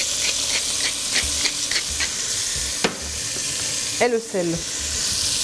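Beef pieces sear in a casserole pot with a loud, steady sizzle and crackle, broken by a few clinks and a short scraping stir near the end, and a voice briefly speaks over it.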